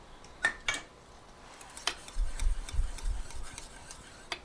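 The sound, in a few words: spoon scooping hot gravy from a pot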